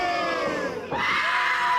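A female wrestler lets out a sustained, loud war cry before a forearm strike in an intergender pro wrestling match, the scream rising and wavering for under two seconds over a faint crowd murmur.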